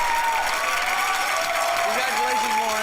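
Studio audience at a game show applauding and cheering loudly and continuously, a dense wash of clapping with voices rising over it.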